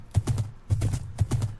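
A horse in Minecraft clip-clops along a road, giving three evenly spaced groups of quick hollow hoof clops that sound close and clear, with no talking.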